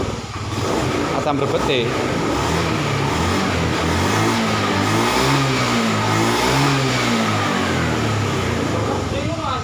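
A Honda Beat FI scooter with a throttle and charging fault is revved repeatedly, its engine note rising and falling in loud wavering surges, close up, with someone talking over it briefly.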